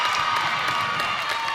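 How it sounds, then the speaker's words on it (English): A girls' high school basketball crowd at a tri-district game cheers and applauds steadily, a dense wash of voices and clapping that stays loud and even throughout. "This crowd coming alive."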